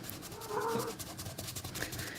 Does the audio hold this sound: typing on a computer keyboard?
no